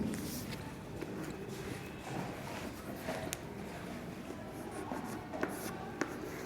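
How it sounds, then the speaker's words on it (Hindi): Chalk writes a word on a classroom blackboard in steady scratchy strokes and taps, moderately close, with room noise around it. "मैं अभी कुछ शब्द ब्लैक बोर्ड पे लिख रही हूँ।"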